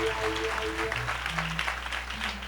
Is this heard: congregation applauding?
yes